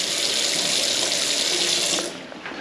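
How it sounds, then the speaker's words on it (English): Hot water gushes steadily from a bathroom tap boosted by a newly fitted shower pump, a loud, close, continuous rush that drops off and thins out near the end. "pops a hot tap on, pump kicks in, there you go"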